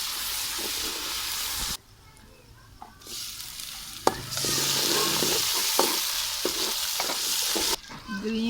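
Garlic paste hits hot oil in a home kitchen pan and sizzles loudly, with steady frying hiss, a brief lull, then renewed vigorous sizzling and stirring scrapes.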